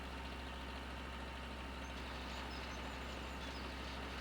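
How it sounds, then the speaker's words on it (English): Steady, droning hum of a small three-cylinder tractor engine in Farming Simulator 2013, running continuously at an even level with no variation in pitch and no voices over it. "it's probably only like a 3-cylinder engine, if that"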